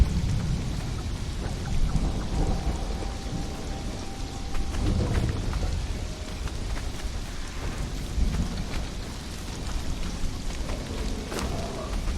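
Heavy rain pours steadily through a nighttime thunderstorm in the survival game Conan Exiles, with deep rolling thunder rumbling repeatedly underneath, no voices.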